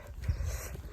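Eda, a female farm dog, pants and snuffles close by in short breathy bursts, with faint low thumps underneath and no voices.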